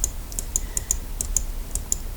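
Keyboard keys tapped at a computer while working in Inspiration Pro design software, about ten crisp, evenly spaced clicks close to the mic over a faint background hum.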